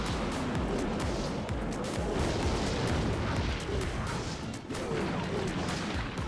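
A rocket spell explodes in Clash Royale amid busy battle noise: a dense run of booms and crashes with rumbling impacts across several seconds at moderate level.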